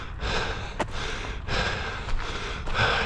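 A runner catches his breath after a seven-mile run in Tokyo with an injured hamstring: heavy, rhythmic, close breaths with sharp gasping inhales, loud and alone with no talking.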